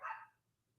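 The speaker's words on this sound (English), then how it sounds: "I don't know why my dogs are barking all night" A single short bark from one of the dogs outside at night sounds faint and distant, then fades into quiet.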